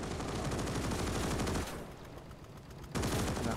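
Maxim machine gun firing in a Gates of Hell Ostfront battle, a rapid steady stream of shots that breaks off briefly and then resumes, with no talking.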